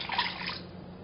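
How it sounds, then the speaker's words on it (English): Water pours briefly onto granulated sugar in a pot for homemade rock candy, a short splashy gush close by that quickly trails off. "And we're going to pour in the water"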